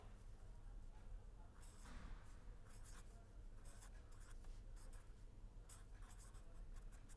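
Chalk or marker scratches on a lecture board in quick, uneven strokes, faint and close, over a low room hum.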